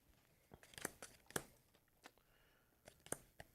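Quiet papery riffling and crisp snaps of a deck of board-game cards for Sleeping Gods: Distant Skies being shuffled, a few sharp flicks spread over a few seconds at close range.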